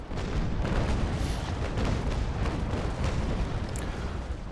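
Broadside of naval cannon fire from a sailing warship in the Naval Action game, a loud, continuous rumbling barrage of booms rolling together without pause.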